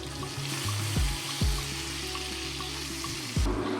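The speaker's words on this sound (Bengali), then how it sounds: "পেঁয়াজটা দিয়ে আধা সিদ্ধ যেটাকে বলি আমরা আধা ভাজা সেটা করে নেব" Chopped onion frying in a hot pan for khichuri, a steady close sizzle with a few sharp utensil knocks and stirring scrapes, no voices.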